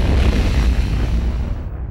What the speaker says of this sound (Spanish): Esa explosión produjo una nube blanca que muchas personas aseguraban era tóxica